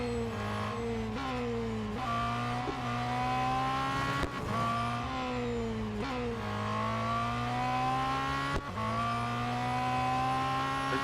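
A race car engine in Real Racing 3 revving loud and close, climbing in pitch through each gear with sharp drops at the shifts and downshifts under braking, and no talking.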